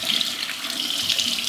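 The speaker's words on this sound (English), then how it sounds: "I just rinse with cool water" Cool water runs steadily from a tap into a sink while a face is rinsed, giving a close, even hiss without pauses.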